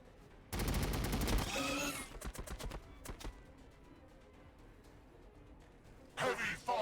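Gunfire rattles out in Warhammer 40k: BattleSector, a dense loud burst followed by a string of shorter sharp volleys, then a quieter stretch before another brief burst near the end.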